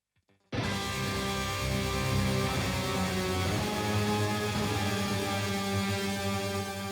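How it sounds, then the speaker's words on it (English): After a short silence, a guitar rings out with dense, sustained B notes stacked in three octaves across the neck, a full droning texture that stays steady and moderately quiet. "I'm basically doing 3 octaves across all the neck."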